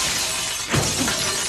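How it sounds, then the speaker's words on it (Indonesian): Glass shatters in a single bright crash partway through, heard against a dense, hissing wash of steady background noise with no talking. "langsung saja memecahkan kaca"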